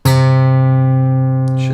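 A single guitar D string tuned down to C, plucked once and left ringing clearly for nearly two seconds with a rich, slowly fading tone and a faint brush of noise near the end.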